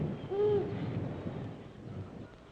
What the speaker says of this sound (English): That's an owl.